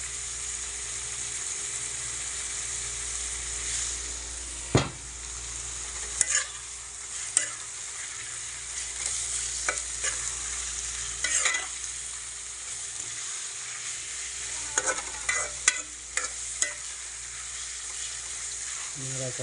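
Food frying in a pan being stirred, a steady sizzle with scattered scraping clinks of the utensil against the pan, close by, with faint background talk.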